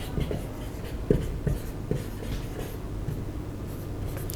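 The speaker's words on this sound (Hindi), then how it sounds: "तो मैं यहां पे डेफिनेशन लिख देता हूं।" Chalk or marker tapping and scraping against a classroom board as a definition is written during a chemistry lesson, a few sharp taps amid a steady low room hum, with no talking.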